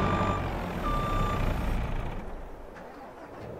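A truck in a farming simulator game, its diesel engine rumbling with a steady reversing beep, then the engine note dropping and fading toward the end.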